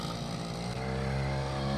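A 50cc petrol scooter fitted with a brushcutter engine runs steadily nearby, a buzzy, droning two-stroke idle that holds constant throughout, alone without talk.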